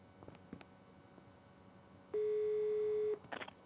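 A steady electronic telephone tone holds for about a second in the Murder on the Orient Express video game, following a few soft clicks and preceding brief stuttering beeps as a call to the lab is placed.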